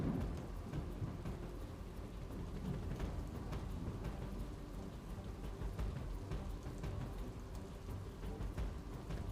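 Heavy monsoon rain pours steadily in Bilimora, Gujarat, during flooding of the Kaveri River, a dense continuous roar with occasional low thunder-like rumbles, loud and unbroken throughout.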